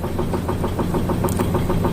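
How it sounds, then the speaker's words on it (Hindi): Heavy machinery drones in a cargo ship's bulk carrier engine room, a loud, constant low rumble with a steady rhythmic knocking pulse, heard close with no voices. "बहुत सारे मशीन से बहुत सारा आवाज़ है यहाँ पर"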